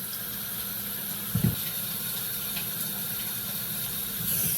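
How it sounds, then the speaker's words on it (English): Potatoes scrubbed under running water in a sink, a steady hiss of the flowing tap with a brief louder splash of handling partway through. "All you're doing is giving them a good scrub underwater"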